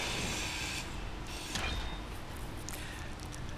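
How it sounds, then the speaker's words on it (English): A handheld grinder in Space Engineers grinds down a survival kit, a steady broadband mechanical whir with a faint creaking rub, continuous and even throughout with no voices. "Break out our grinder, and we are going to grind down our survival kit."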